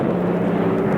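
An airplane tumbling in an old superhero audio drama, a steady loud roaring drone of engine and rushing air, sustained without pause and with no voices.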